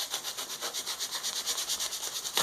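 Steady rhythmic rubbing strokes as the edge of Volara foam padding on a bat haft is beveled, close and quiet, about twenty even back-and-forth passes with no talking.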